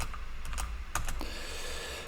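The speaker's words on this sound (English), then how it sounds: "I'm just typing notes here" Clicky keystrokes on a computer keyboard as notes are typed, a quick irregular burst of close, fairly quiet taps over faint room hiss, with no talking.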